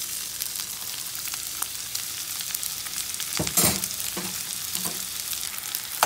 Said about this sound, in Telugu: ఈ బటర్ కొంచెం మెల్ట్ అయిన తర్వాత ఆనియన్స్ వేసి మంచిగా ఫ్రై చేయాలి.